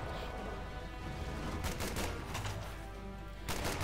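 Machine gun fire crackles in a World War II real-time strategy battle as a lieutenant shoots at Grenadiers, with several sharp bursts rising over a steady background of combat noise.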